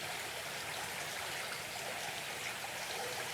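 River flowing through an ancient forest, a steady broad rushing wash of water with no break, moderately loud and alone.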